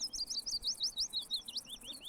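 Birds in the Russian Fishing 4 game sing a rapid run of bright, repeated chirps close by, continuous and lively against a soft ambient background.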